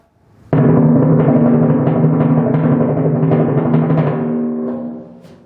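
A sustained timpani roll on a low E flat swells in suddenly, holds steady and resonant for several seconds, then fades away.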